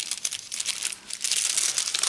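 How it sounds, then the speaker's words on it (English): A glassine bag crinkles and rustles in close handling for a journal craft, with crisp bursts of crackling that dip briefly and then build into steady crinkling. "That's another half of the glassine bag, and I cut it from the top"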